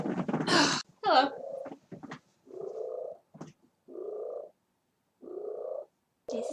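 Pet cat Mittens, in a cluttered room at home, gives a series of separate nasal meows and short mewing calls with gaps between them, close to the listener, plus one brief louder burst near the start.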